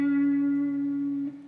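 A single sustained electric guitar note, fretted at the 7th fret of the G string and shaken with vibrato, rings clear and steady for over a second before dropping away near the end.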